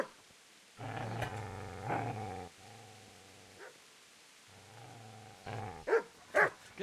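A dog in the video game Kingdom Come Deliverance growls in long, low rumbling bursts, then breaks into a few sharp, close barks toward the end.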